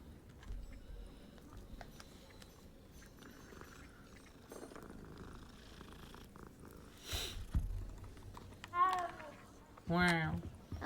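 A cat purrs in the Hogwarts Legacy video game, a low, steady rumble running under the whole clip, joined near the end by two short, rising voiced calls.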